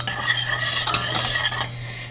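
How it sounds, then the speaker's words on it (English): Powdered allulose is whisked into a baking mixture for keto blueberry crumble bars, a steady scraping and clinking of whisk against bowl throughout, close and continuous. "I'm just going to whisk that in"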